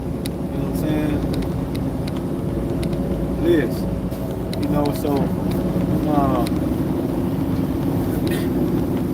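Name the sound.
truck driving on the road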